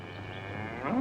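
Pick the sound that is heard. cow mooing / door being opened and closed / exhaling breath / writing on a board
cow mooing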